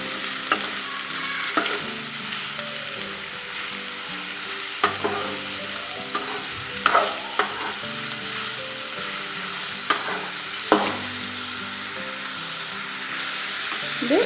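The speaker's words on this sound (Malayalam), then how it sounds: "ഇനി ഇതിലേക്ക് നമ്മുടെ അരിഞ്ഞു വെച്ച ഉള്ളി ഇട്ട് കൊടുക്കാം." Chopped onions sauté in hot oil in a Kerala cheenachatti, a continuous sizzle broken by scattered clanks and scrapes of stirring, with no voices.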